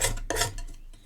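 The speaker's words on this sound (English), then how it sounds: "So I'm just using a palette knife now" A palette knife scraping and mixing paint on a palette, producing short, close, gritty scrapes and taps in quick succession with no voices.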